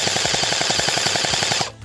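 An Unlocx V1 gel ball blaster pistol fires a rapid, steady burst of about twenty evenly spaced shots over a constant motor whine, loud and close, then cuts off abruptly.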